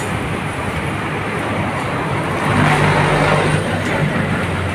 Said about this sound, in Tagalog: Ayan ang bibilis naman ng mga sasakyan dito.